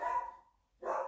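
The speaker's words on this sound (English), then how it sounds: "Let me put her in the carrier and see what my dogs are barking at." Two close, loud barks from dogs indoors, separated by a short silence, each a sharp yelping bark.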